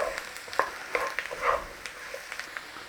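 Mushrooms stirred in a frying pan for a chicken, mushroom and sweetcorn cobbler, with irregular soft scrapes and clicks of the spoon over a steady low sizzle, close and fairly quiet.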